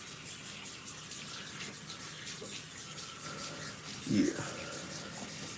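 A tap runs in a soft, steady stream as hands are rinsed beneath it, with one brief louder splash partway through and a single short word spoken over the flow.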